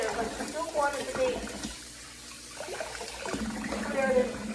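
Water splashing and running in a sink during the second washing of flour dough for seitan, sloshing bursts at the start and end with a brief quieter gap between, partly under a voice talking.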